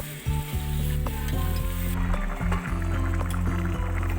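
Prawns with potato and pointed gourd, seasoned with cumin powder, sauté in a pan with a steady, loud sizzle and some stirring, while a low steady tonal hum runs underneath.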